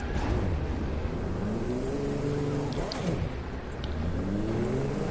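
Car engines roar in The Crew 2 during a race, a steady loud drone with rising and falling pitch sweeps as the cars accelerate and shift, running continuously throughout.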